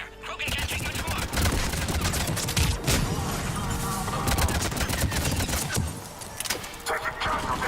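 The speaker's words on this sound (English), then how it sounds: "We're under fire." Sustained gunfire from Mass Effect 3 on an Xbox One X: dense, loud, continuous volleys of shots with mixed battle noise run throughout, with voices partly buried beneath the barrage.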